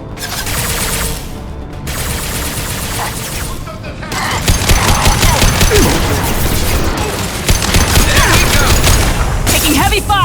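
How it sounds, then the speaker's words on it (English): Heavy, sustained gunfire from a Mass Effect 2 battle on PC, with dense bursts of automatic fire and booming impacts that grow louder after a few seconds and keep going without pause. "Taking heavy fire!"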